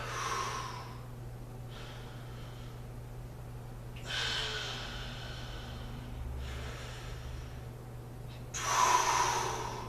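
Deep, audible breaths during a yoga flow session, with three long airy exhalations spaced a few seconds apart, close and moderately loud over a steady low hum, no talking.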